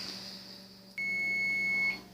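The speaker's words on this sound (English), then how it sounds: "I just came in and the timer going off" A kitchen timer goes off with a single steady high-pitched beep lasting about a second over a faint room hum.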